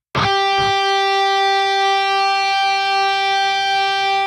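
A single bright, bell-like natural guitar harmonic at the 12th fret rings out after a quick pluck and sustains evenly for several seconds, clear and alone.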